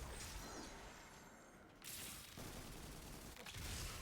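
Rapid video-game gunfire in a dense, noisy burst, clattering shots and mechanical clicks with a brief lull midway before the firing resumes loudly.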